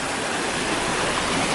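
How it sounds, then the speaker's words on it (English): A creek flowing outdoors gives a steady, full rushing of water, constant and fairly close, with no voices over it. "Ain't this what you call this, a creek, or is it a stream? Just water."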